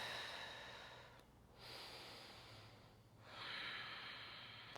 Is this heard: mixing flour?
no